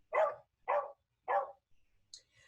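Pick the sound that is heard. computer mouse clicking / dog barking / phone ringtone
dog barking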